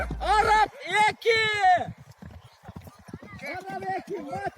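Racing horses galloping in a horse race, rapid hoofbeats drumming steadily underneath loud, excited commentary in another language.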